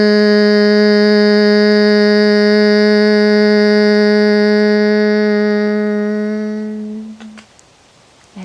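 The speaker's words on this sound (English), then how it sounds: "And as you start exhaling, start humming." A steady, loud, close hum on the exhale during Brahmari honeybee breath, a single sustained tone held for about seven seconds before trailing off into a quiet breath.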